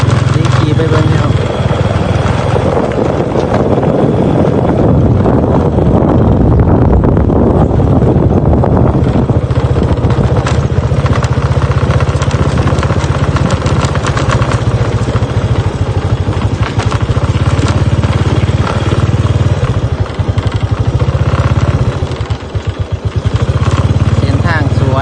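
A motorcycle ridden along a tree-lined road at Champasak University in Pakse, southern Laos, makes a continuous engine drone under heavy, roaring wind buffeting on the microphone, loud and unbroken throughout.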